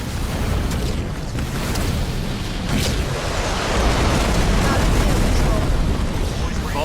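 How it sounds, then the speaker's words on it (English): Artillery explosions in the Halo Wars video game form a dense, continuous roar of blasts and booms, loud throughout, with voices heard at times. "Artillery deploying."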